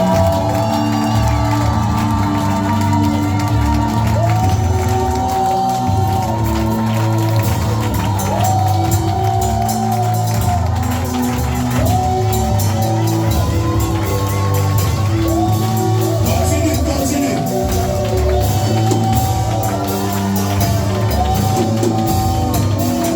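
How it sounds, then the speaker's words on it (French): A church congregation raises sustained joyful shouting and cheering over steady music, a loud, dense crowd roar with scattered whoops throughout. "Commence juste à pousser des cris de joie et à acclamer."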